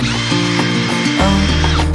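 A power drill drives screws into a wooden canner cabinet built from 1x10 boards, a loud, close, whining motor hum that shifts pitch as each screw bites and seats.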